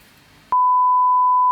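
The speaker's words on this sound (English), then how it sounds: "Notification." A notification tone sounds as a single loud, steady pure beep that cuts in abruptly after quiet background and holds for about a second.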